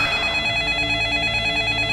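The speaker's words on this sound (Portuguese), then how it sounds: "com o celular do padre tocando" A priest's cell phone rings inside a church, a continuous, loud electronic ringtone with steady tonal layers held throughout, no voices.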